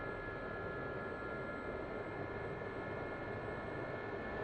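A steady, even engine roar from an A-10C jet spooling up for takeoff in the DCS flight simulator, continuous and unchanging, with no talk.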